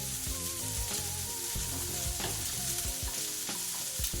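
Chorizo burger patty frying in oil in a pan, a continuous dense sizzle and crackle with pops scattered throughout, close and steady, with no voices.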